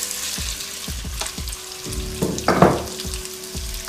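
Shrimp fry in a pan with a continuous close sizzle, punctuated by repeated scraping knocks as they are spread around, and a louder hissing swell near the middle.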